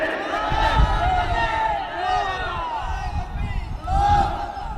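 A crowd at an outdoor Bangladeshi Islamic sermon gathering shouts the takbir in unison, a loud collective roar that swells, fades and then rises again in a second surge.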